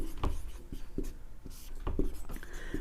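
Chalk or marker strokes on a board during a Hindi grammar lesson, a steady run of short scratchy taps and scrapes close by, with no talking.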